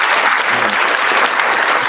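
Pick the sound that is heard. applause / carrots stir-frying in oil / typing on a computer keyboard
applause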